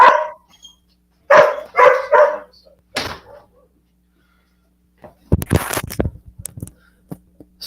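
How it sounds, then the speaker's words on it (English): A farm dog barks close and loud, several sharp barks in a row, then goes quiet before a burst of rattling movement and more barking. "the farm dog has to bark at everything"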